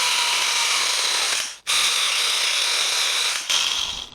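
A Stihl GTA26 battery mini pruner saws through a dry elm branch with a steady high-pitched buzz, close and loud, briefly dipping twice as the cut pauses or the load drops.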